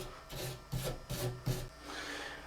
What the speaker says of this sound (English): I'll get my wire brush and go clean the threads